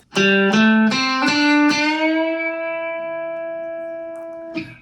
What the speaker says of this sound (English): We want to bend up to that E note.